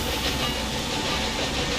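A train rolls along rails in the railway strategy game Railway Empire 2, climbing out of New York toward Albany, a steady close rumble with hissing wash and faint rhythmic clatter throughout.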